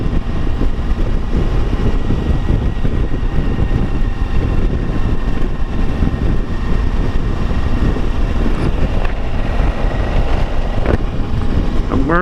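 Loud, steady wind roar buffets the microphone throughout while riding a Suzuki V-Strom adventure motorcycle on the highway, with a full face helmet and windshield, a continuous low rumble with no pauses.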